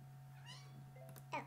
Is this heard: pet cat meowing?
yes